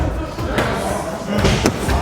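Thuds of a side kick striking a pad during self-defense training, a few dull impacts spread across the moment with some background noise and voices in the room.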